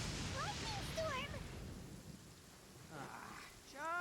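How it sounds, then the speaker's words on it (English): A lightning storm in the game Genshin Impact brings a low rumble of thunder and rain noise, fairly faint, while a voice speaks over the top in short bursts. "Uh-oh! Lightning storm!"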